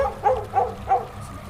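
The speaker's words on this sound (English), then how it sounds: "It's got barking dogs in the background, obviously nervous." Dogs barking in the background outdoors in woodland, three evenly spaced barks at moderate distance.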